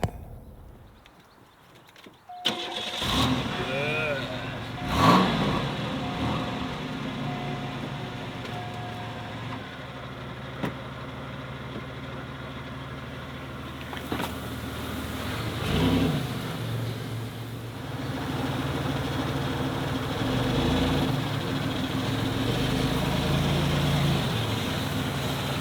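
A 1991 Oldsmobile Ninety-Eight Touring Sedan with a fuel pump fuse fault cranks and catches after a short quiet lead-in, then settles into a steady low idle with a few brief bumps and clicks.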